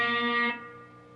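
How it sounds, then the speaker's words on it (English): A single distorted electric guitar note on the G string, third fret, is picked and bent a quarter step, ringing out and fading over about a second with no voices. "You're going to pick it, and after you pick it, you're going to just slightly pull that note down"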